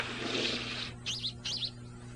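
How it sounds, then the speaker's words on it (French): Two sparrows at a bedroom window, giving two short, clear, bright chirps in quick succession after a soft hiss of background noise. "Hé, il y a deux moineaux."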